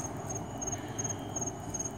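Steady high-pitched cricket chirping repeats in a continuous pulsing trill across the whole stretch, close and fairly clear over a low rumbling outdoor background.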